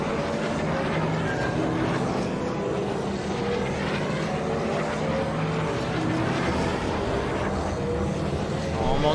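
Podracer engines roar continuously in the Star Wars Episode I Racer video game, a loud, dense, whining drone that holds steady throughout without any clear talk.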